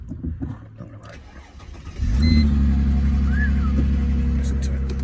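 A BMW E46 engine catches and settles into a loud, steady idle partway through, with a deep continuous rumble close by after some earlier rustling and handling noise.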